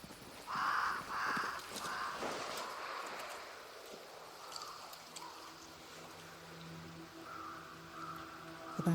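Crows caw in the Banishers: Ghosts of New Eden video game, a few loud harsh calls close together at the start, then fading into quieter ambient game sounds with a low droning tone near the end.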